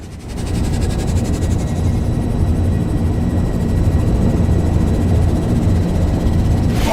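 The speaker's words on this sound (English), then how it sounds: "Engines at maximum." Spaceship engines at maximum thrust in the game Rebel Galaxy: a steady, loud, dense rumbling roar with a hissing wash on top that holds evenly for several seconds.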